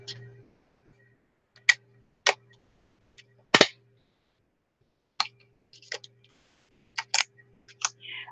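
A stapler fires staples into mixed-media craft work, giving a series of sharp, close, isolated snaps spaced irregularly, with quiet gaps and a faint hum between them.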